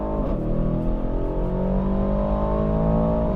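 A 2023 Aston Martin DBX707 SUV pulls hard under steady, loud acceleration, its engine note rising continuously as it picks up speed, heard from inside or close by with no talk over it.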